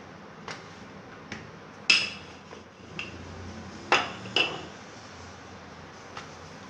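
A rolling pin working garlic paratha dough thin on a board, giving a string of irregular wooden knocks and clacks, about eight over a few seconds, near and moderately loud, with no speech.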